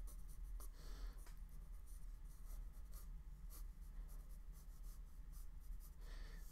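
A pencil scratches across paper in quick continuous strokes while sketching creature designs, close up and quiet, with brief pauses between bursts of strokes and no talking.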